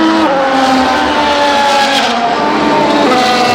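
Formula 1 race cars screaming around the track at an F1 race weekend, a loud, steady high-pitched engine wail with shifting harmonics, close and continuous throughout, no talking.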